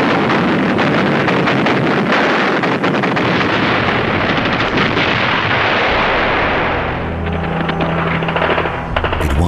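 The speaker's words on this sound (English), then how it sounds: "you see the buildings falling under the impact of the bombs" Bombs exploding and buildings collapsing under bombardment, a continuous loud, roaring rumble of blasts and crashing debris that fades toward the end into a lower, quieter drone.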